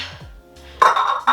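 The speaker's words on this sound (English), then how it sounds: "This clear set of mixing dishes I got for our wedding" Glass mixing bowls are handled in a kitchen: a few soft knocks, then bright clinking rings as glass touches glass, short and close with no talking.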